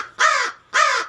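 Two loud, harsh caws from a rescued wild crow with a badly broken wing, close by and evenly spaced, each lasting about a third of a second with a short pause between.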